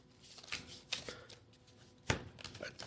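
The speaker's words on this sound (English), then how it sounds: "I also have to shuffle my test deck because I got a shuffle symbol last time" A test deck of cards being shuffled for the board game Earthborne Rangers, a few soft riffling bursts and taps at close range over quiet room background.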